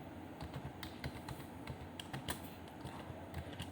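A name is typed on a computer keyboard in a rapid, steady run of close keystrokes over a constant low background hum. No one speaks.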